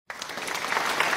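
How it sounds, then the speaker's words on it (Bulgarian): Applause from a small crowd erupts abruptly and holds steady as dense, continuous clapping, played as an effect during a family game night built around children's games. "Ще сложа аплодисменти."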